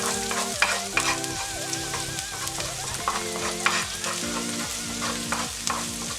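Ginger and garlic sauté in hot oil for a vegan orange tofu dish, a steady sizzle broken by repeated clinks and scrapes of stirring, with background music running throughout.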